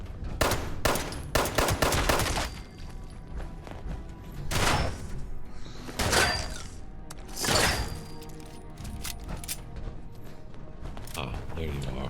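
Gunshots in Fallout 76, a cluster of fast sharp shots at the start followed by several single loud blasts spaced a second or two apart, with talk running over them.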